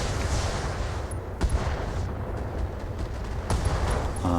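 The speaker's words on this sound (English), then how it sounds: "We got an ammo explosion on the torso." In the Battletech video game, ammunition explodes in a mech's torso, producing a dense rumbling burst of booms and crackling blasts with sharp cracks at intervals, loud and continuous with no talk.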